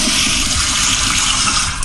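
Powerful high-velocity power flusher toilet flushing in a home bathroom, a loud continuous rushing gush of water close by that fills the whole moment without letup.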